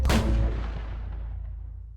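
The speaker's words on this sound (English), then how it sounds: "We'll give him a gunshot." A single loud gunshot sound effect cracks at the start, followed by a long, booming echo that rolls away and fades over about two seconds, with no voices.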